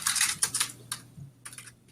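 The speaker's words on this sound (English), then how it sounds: "I'm not sure he's typing in the background" Rapid clicking of keys on a computer keyboard picked up in the background of an online webinar call, light uneven bursts of keystrokes with a faint steady hum underneath.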